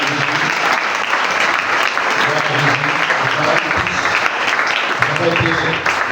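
A French-speaking church congregation applauding through a worship service, dense steady clapping that fills the room from start to finish with no gaps.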